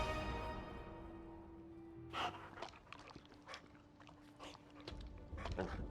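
Charlie, a red pit bull hellhound in the video game Marvel's Midnight Suns, growls and snorts in rough, breathy bursts over a steady low game tone, irregular and close.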